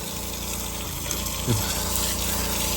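Water pours steadily from a pump hose to flood a freshly cast concrete roof slab for curing, a continuous rushing gush with a faint pump hum beneath it.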